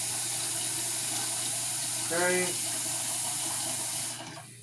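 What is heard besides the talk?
tap water filling a cooking pot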